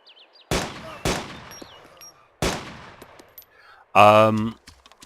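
Three loud, sharp gunshots from an in-game weapon in DayZ, spaced unevenly over a few seconds with short decaying tails, followed by a brief harsh tonal burst near the end.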